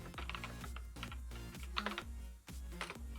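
Steady rapid typing on a computer keyboard during Minecraft mod development, quick clustered key clicks with a few louder strokes, close and continuous over a low background hum, no voice.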